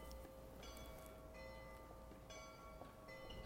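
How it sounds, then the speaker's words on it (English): Distant church bells chime faintly across a town in Horsham, England, a few separate strikes ringing out over steady outdoor background noise. "Somewhere over there, there's a bell chiming."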